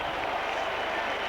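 A crowd at a 1992 Wigan rugby sevens match applauds a Leeds try, a steady wash of clapping and cheering that holds at an even level for a brief moment.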